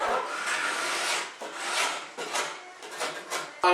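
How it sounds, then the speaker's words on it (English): Scraper rasping hardened plastic resin glue squeeze-out off a bent laminated wood railing, long close gritty strokes in uneven rhythm that pause briefly between passes, with a knock at the end. "And then scrape off any extra squeeze out"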